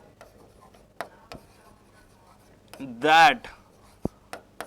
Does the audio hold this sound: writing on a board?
yes